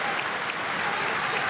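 Crowd at a Big Ten college wrestling arena cheering and clapping, a dense, loud, continuous wash of applause with no pauses.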